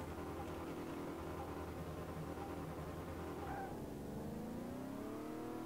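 A rebuilt car engine in Car Mechanic Simulator 2018 holds a steady, loud drone, then revs and sweeps upward through rising gears on a test run, with no talk over it.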